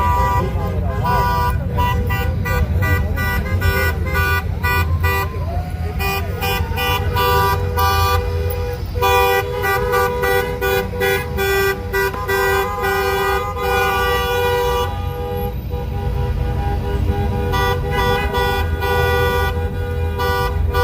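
Dense road traffic in a long backup, with car horns tooting repeatedly in short bursts over a steady engine rumble, near and loud, with voices mixed in.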